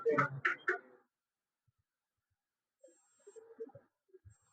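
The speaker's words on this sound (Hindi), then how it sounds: "ये देखो बीप दे रहा है यहाँ से" A multimeter's continuity beep sounds while a technician probes the tracks of an Android phone circuit board: a thin, steady, high tone lasting about a second, faint under someone talking, after an earlier spell of speech.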